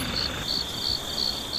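Grass insects chirping at night outdoors near tidal flats in Gochang, Korea, a steady high-pitched pulsing trill in regular bursts, close and clear with no voices.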